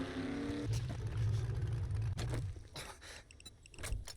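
A 4x4 vehicle in a video game, its engine rising in a rev and then settling into a rumbling drive, with scattered knocks and thumps mixed in, moderately loud.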